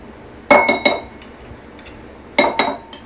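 A measuring cup scoops out an ingredient for a BBQ chicken, smoked sausage and broccoli salad, giving two short bursts of close, sharp clinks and scrapes with a quiet pause between them.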